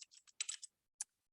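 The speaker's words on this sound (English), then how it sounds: "So again, I'm just typing" Quick bursts of keystrokes on a computer keyboard, a rapid cluster of clicks followed by a pause and one last tap, close and quiet with no talking.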